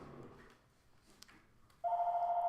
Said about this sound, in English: My phone just went off, that's great.